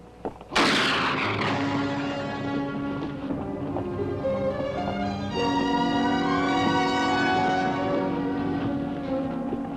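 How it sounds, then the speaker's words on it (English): Gunshots are fired at a rider: a sharp, loud crack opens, then a long rumbling echo follows and slowly decays, with faint hoofbeat-like thuds beneath. "It appears they were shooting at you, whoever they were."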